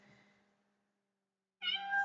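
A kitten lets out a clear, close meow after a brief, faint earlier murmur and a stretch of near silence.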